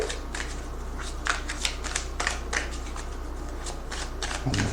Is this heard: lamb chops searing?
no